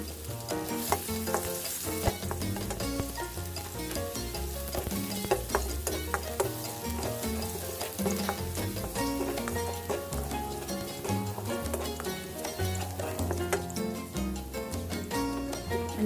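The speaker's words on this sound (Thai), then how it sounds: "กระเทียมที่เราโขกไว้นะคะ เอามา ผัดให้หอมก่อนให้เหลืองหอมก่อนนะคะ" Pounded garlic stir-fries in a pan of oil, producing a continuous crackling sizzle broken by frequent scraping stirs of the utensil, close and constant for about sixteen seconds without speech.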